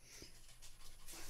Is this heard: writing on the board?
no